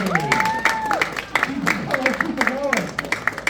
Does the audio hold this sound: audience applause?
yes